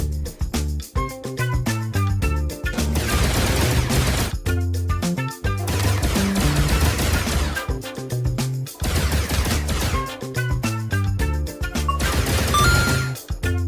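Gunfire from a Tyrannosaurus hunt in the video game RimWorld, with repeated bursts of loud shots and crashes layered over dense, continuous game music.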